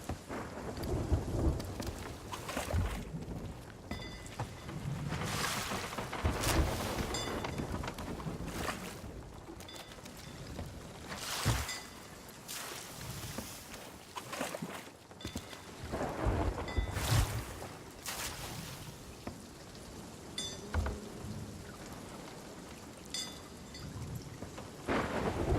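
Night-time thunderstorm at sea in a sailing video game, heavy rain hissing steadily throughout, broken by repeated crackling thunder bursts and low rumbles, loud and immersive with no speech.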